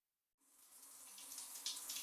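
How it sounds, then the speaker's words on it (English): Water from a bathroom shower starts abruptly after a brief silence and runs on as a steady, soft hiss of spray, faint and continuous with no voices. "I heard the sound of running water from the bathroom shower"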